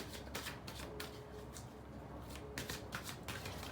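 Oracle cards being shuffled before a card is drawn: rapid riffling and flicking of cards in quick repeated bursts, close and fairly crisp, with a faint hum underneath.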